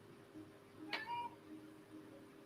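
A single short meow from a pet cat, faint and somewhat distant against a quiet room hum, with no talking during the call.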